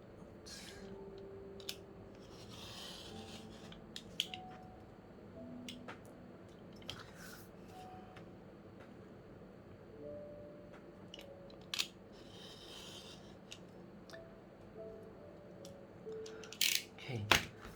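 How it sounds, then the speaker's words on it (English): Scissors trim a handmade tarot deck box, giving scattered close snips and crunchy cuts with pauses between them over faint background noise, ending in a quick cluster of clicks. "I'll just try to trim this nicely."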